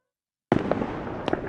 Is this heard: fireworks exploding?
yes